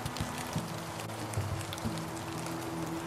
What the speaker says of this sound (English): We're getting a little rain now.